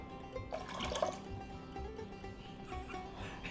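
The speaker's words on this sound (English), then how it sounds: "how much water are we adding? We add, just to cover the beans" Water pours into a pot of beans for cowboy pork and beans, a soft close trickle and splashing with a few drips, fairly quiet and steady.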